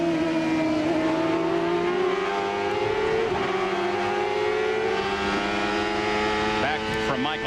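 CART Indy cars at Elkhart Lake in 1995 climb the hill with engines wailing at high revs, a steady close roar with rising pitch as they accelerate, and a second car's scream joins near the end.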